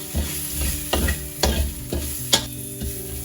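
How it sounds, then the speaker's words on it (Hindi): Green onion whites, Sichuan peppercorns and aromatics frying in oil over medium heat, a steady sizzle broken by several scraping stirs of a spatula, close and fairly loud, no voices. "इस सब को मीडियम हीट में हम फ्राई करेंगे"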